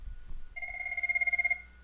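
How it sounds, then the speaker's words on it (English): A phone rings on an IP Communicator softphone call to extension 2000, one steady electronic ring tone lasting about a second, clear and fairly close over quiet background. "Again, you can hear the phone ringing in the background."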